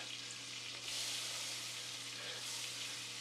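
Butter melting in a pan over medium-high heat, a soft steady sizzle and faint crackle close by, alone with no talk.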